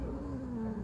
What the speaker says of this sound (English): I'm sorry if you hear like a super growly meow.